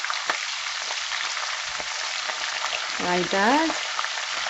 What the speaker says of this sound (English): I'm going to add the fresh jalapeno pepper as well. So we're gonna saute this for 1 to 2 minutes